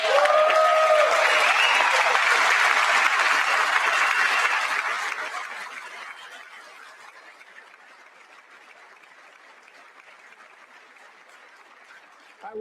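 Loud applause from the chamber at the State of the Union, sustained for several seconds and then tapering off into a faint murmur.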